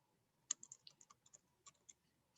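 Keys on a computer keyboard tapped in an uneven run of distinct clicks, close and fairly quiet, with short pauses between strokes and no talking.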